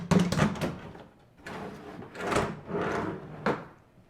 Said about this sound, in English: This drawer even comes out to make it very easy to take the seeds and bring it to other parts of the lab.